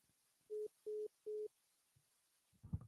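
A phone's disconnect tone sounds as three evenly spaced steady beeps, each about a fifth of a second long, fairly faint, followed by a brief rustle.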